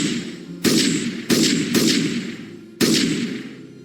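Sharp gunshots ring out in a dramatized night battle scene, four distinct loud cracks at uneven intervals, each followed by a decaying echo.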